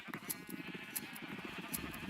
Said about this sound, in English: Come on, sheep. I know you have the wool.